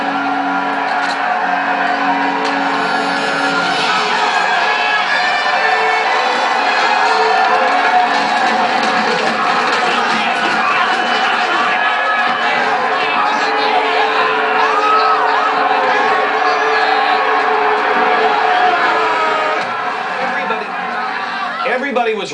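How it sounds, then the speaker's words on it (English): A crowd screams and shouts in a Kevin Costner Waterworld film scene, a dense, loud mass of overlapping voices with whoops and yells that runs steadily for the whole stretch. "Everybody was really upset. Everybody's screaming."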